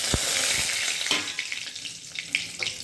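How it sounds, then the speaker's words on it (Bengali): Whole spices — bay leaf, cloves, cardamom and cinnamon — drop into hot oil with a sharp initial crackle, then settle into a steady close sizzle with small pops. "এবার আমি ফোড়নের মশলাগুলো দিয়ে দিচ্ছি।"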